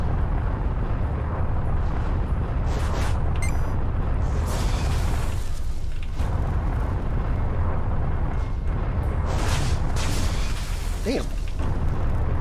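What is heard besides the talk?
explosions from shots hitting the player's ship in a video game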